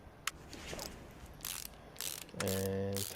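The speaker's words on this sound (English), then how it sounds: "And tighten these screws down." In Car Mechanic Simulator, a ratchet tightens the screws on a brake caliper. Several quick, quiet clicking bursts come in a row, followed by a steadier mechanical whir at the end.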